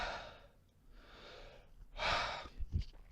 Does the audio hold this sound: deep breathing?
yes